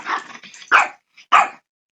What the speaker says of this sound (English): before my dog rudely interrupted me